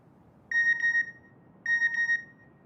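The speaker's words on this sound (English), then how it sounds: "I got a text message from Ibrahim" A phone text message notification plays as two identical bright electronic chimes, each about half a second long with a short warble, about a second apart against near silence.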